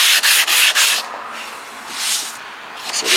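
Close, loud strokes of a sanding block scraping over old fiberglass, coming in bursts of rough abrasive rubbing with short pauses between passes.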